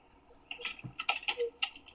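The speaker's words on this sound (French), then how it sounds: "il y a quelqu'un qui s'amuse à jouer avec son clavier, on dirait" Faint clicking of a computer keyboard picked up over a Skype call, about eight quick irregular keystrokes in a short burst against low background hiss.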